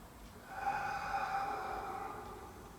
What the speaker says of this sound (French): Pensez à votre expiration. Inspirez profondément.